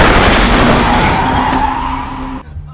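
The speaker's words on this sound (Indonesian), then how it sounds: "Hingga pada akhirnya ia tetap saja tertabrak oleh mobil itu." In a movie scene, a black sedan skids loudly with a long tire screech before striking a man, the noise cutting off abruptly at the end.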